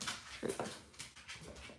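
A pet puppy lets out a short, soft whimper and a couple of faint yips indoors, quiet and close beside a person crocheting.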